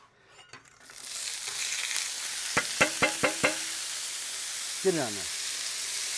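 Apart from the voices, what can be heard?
peppers, onions and celery frying in a pan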